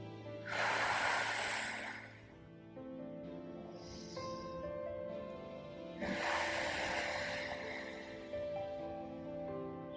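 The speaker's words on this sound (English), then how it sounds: "Inhale and exhale." Slow, deep yoga breathing, with a long airy inhale followed by a hissing exhale, repeated twice, close and loud with no talking.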